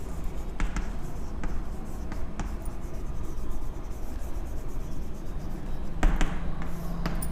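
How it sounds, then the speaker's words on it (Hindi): Scrubbing of an eraser wiping a written maths question off a classroom board, a steady close rubbing texture with a few sharper knocks and taps, no voices. "पूरा क्वेश्चन भी मैं इरेज कर रही हूँ"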